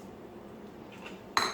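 A utensil clinks against a metal pot while noodles are stirred for wonton soup, mostly a quiet bubbling hum ending in one bright, close metallic clink.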